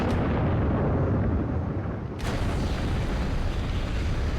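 A fire ritual spell explosion in Skyrim, a loud roaring blast with a sharp burst partway through followed by sustained rumbling fire.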